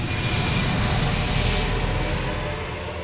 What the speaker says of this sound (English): a chartered passenger flight from Mombasa to Israel takes off carrying 200 holidaymakers